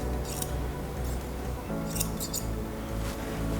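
Small grooming scissors snipping the hair on a toy poodle's lips and muzzle, several quick close metallic snips over a steady background hum.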